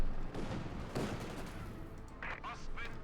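Rifle gunfire from a Company of Heroes 2 battle near a Flak Panzer, with scattered rapid shots and crackling volleys under a busy battlefield din and dense game ambience.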